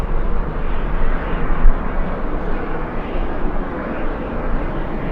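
A LATAM airliner bound for São Paulo takes off at LAX in strong wind, producing a loud, steady jet engine roar with deep rumble and gusty wind noise, sustained throughout at close range.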